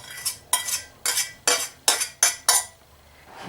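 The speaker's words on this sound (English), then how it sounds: "We take nice big spoon, and what we do is we nicely start stirring until it's beautifully combined." A big spoon scrapes and clinks around a bowl of brownie batter made from sugar and melted butter, a series of about seven rhythmic strokes, close and crisp, with a short pause before a final scrape.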